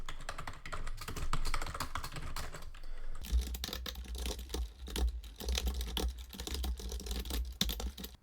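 Rapid, continuous clicking of keys on a computer keyboard while code is typed, steady close-up tapping with brief pauses and a low hum in the background, no voices.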